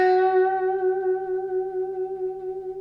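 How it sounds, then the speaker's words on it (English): A single sustained guitar note on the B string waves gently up and down in pitch with vibrato, ringing clearly with an effects-processed tone and slowly decaying, no voice over it. "instead of going side to side, we're going to move the note up and down. A bit like a mini bend"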